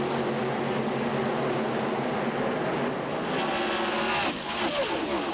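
NASCAR Busch Grand National race cars roaring past at Atlanta in 1997, a dense, loud wall of engine noise from the field going by, swelling near the end, with no talk.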